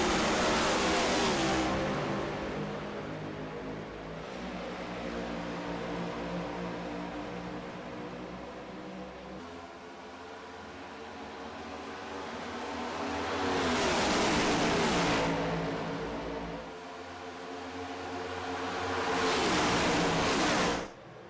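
Race cars roaring off the green-flag restart at Atlanta in an Outlaws series event, a loud dense engine howl that swells as packs pass close, fading slightly mid-clip before surging again twice.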